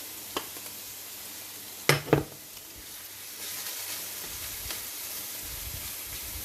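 Onions sizzling and frying in a pan during a shed cook-up challenge, a steady close hiss with a few sharp clatters of stirring near the start.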